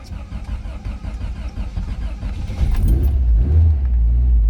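A 1988 Lotus Esprit Turbo engine fires from completely cold on choke, a close rough rumble that catches and climbs into a steady, louder idle after a few seconds.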